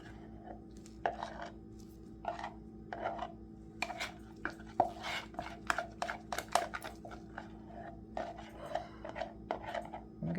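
White casting resin being stirred in a cup, producing repeated scraping and tapping strokes at an irregular rhythm, close and fairly clear over a steady low background hum.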